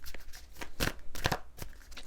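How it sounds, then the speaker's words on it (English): A deck of Affirmators cards is shuffled by hand, giving a few quick, soft riffling and slapping bursts, close and quiet, with no talking. "Wow, this deck really doesn't want to split. Okay, might have to shuffle it a different way."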